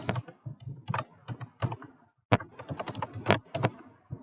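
Quick bursts of typing on a computer keyboard while code is written, with irregular clusters of key clicks, a brief pause about halfway, then more rapid, close and clear tapping.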